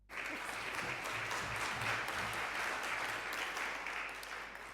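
An audience in a conference hall applauds to welcome speakers to the stage, the dense clapping starting abruptly, holding steady and loud for several seconds, then easing slightly near the end.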